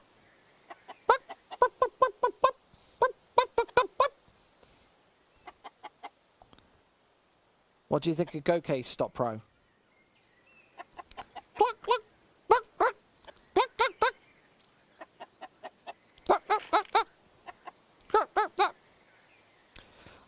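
A chicken clucking in the video game Counter-Strike during a match, short repeated clucks in bursts heard under and between a commentator's talk.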